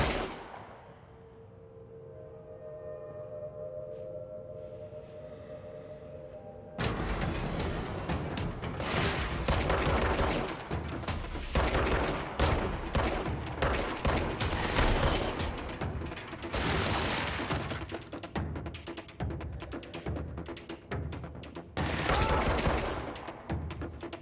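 Sustained gunfire in the action video game Control, with dense rapid bursts of shots and mechanical clatter that erupt suddenly after a quiet humming stretch and continue loudly to the end.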